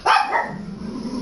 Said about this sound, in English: The pug.